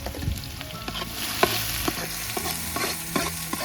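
Garlic and onion frying in hot oil in a cooking pot, a steady close sizzle with occasional stirring clinks and scrapes, no voices.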